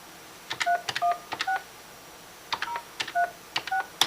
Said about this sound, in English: when you get your eVoice number, you're going to dial it